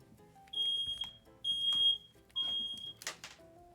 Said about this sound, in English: Hold on a sec. Fire alarm.